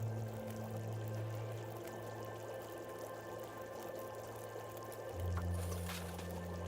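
Water pouring in The Long Dark, a steady low stream running for several seconds and swelling briefly near the end, close and alone with no talk over it.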